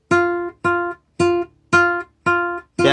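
Guitar tremolo picked on the high E string, heard as six separate bursts of repeated plucked notes, each about half a second long with a short gap between them, close and clear with no talking.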